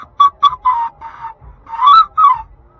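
Breathy, airy notes from replica Viking panpipes, played close and loud as a short run of separate toots and then a few higher, wavering tones, with no voices.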